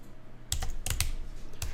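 Keys on a computer keyboard are struck in a few short bursts of close, crisp clicks with small gaps between them, over a quiet room background.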